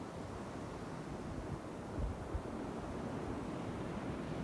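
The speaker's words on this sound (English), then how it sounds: "turn your attention to the waves that roll in and roll up onto the shore and then back out again" Ocean waves rolling in onto a shore and drawing back, a steady broad wash of surf with small swells, alone with no voices.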